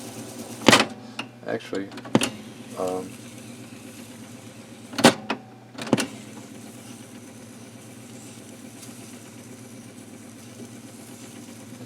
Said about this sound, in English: Now here's a test of this clutch.